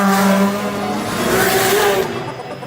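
A Honda Civic street racing car screams loudly up through its revs as it accelerates hard on a mountain road at night, its engine note rising and then dropping away near the end.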